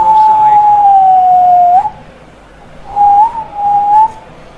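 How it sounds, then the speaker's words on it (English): A referee's whistle blows for offside during a football match broadcast: one long shrill blast, then a second broken blast a second later, over a steady crowd roar. "the whistle's gone, presumably for offside"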